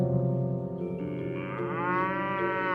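A cow lowing in a long, drawn-out moo, close and loud, with a strong tonal sustained call that shifts pitch partway through.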